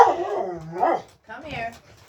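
A puppy yelps and barks in two short, high bursts, close by and fairly loud, with a person's voice mixed in around them.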